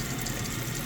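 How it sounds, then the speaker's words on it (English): Kitchen sink tap running, a steady, full hiss of water pouring continuously and close by, with no talking. "if I just turn my water on"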